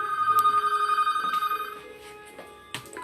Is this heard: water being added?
no